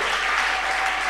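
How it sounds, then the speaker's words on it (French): Church audience applauding a missionary, a steady, dense clatter of many hands at close range filling the whole moment without break. "Est-ce qu'on peut acclamer pour ce bon missionnaire?"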